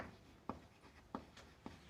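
A pen writes a maths solution by hand on paper, giving soft scratching strokes with four crisp taps spaced about two thirds of a second apart, quiet and close, with no talking.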